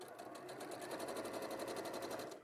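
A domestic sewing machine running steadily while top stitching fabric just beside a seam, a fast even needle rhythm throughout, quiet and close, with no talking.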